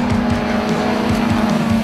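Race cars roar loudly and steadily around the track during SVRA vintage-racing qualifying, with a droning engine note and repeated passing pulses close by.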